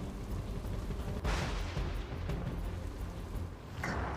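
Heavy downpour in Halol town, a dense, steady hiss of rain with a low rumble underneath and brief bursts of louder splashing.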